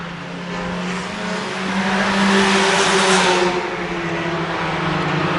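Flatlander race cars run around an oval track, their engines droning loud and close. The roar builds as the pack passes, with a sustained engine whine and some tire noise throughout.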